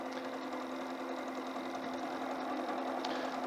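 A sewing machine stitches with a steady, continuous motorized hum and rapid needle rhythm, running evenly and fairly quietly throughout.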